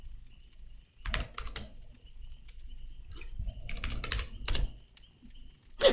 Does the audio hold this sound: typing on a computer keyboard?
yes